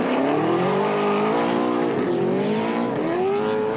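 Naturally aspirated V8 race cars screaming at very high revs, a loud, sustained engine wail that rises and dips in pitch with gear changes, heard from on board with no talking.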